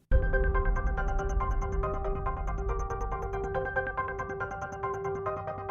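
A bright, bell-like notification chime plays over a steady tonal backing, repeating in a quick rhythmic pattern at moderate volume with no talking.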